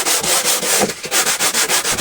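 Hand sanding of wooden staircase parts: rapid rhythmic back-and-forth strokes of sandpaper on wood, about four per second, loud and close with no voices.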